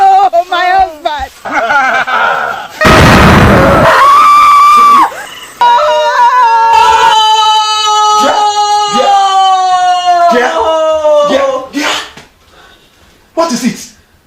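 A woman screams loudly and at length in a drama scene after a terrible dream, the harsh burst standing out amid emotional dialogue and wailing voices that carry on before and after it.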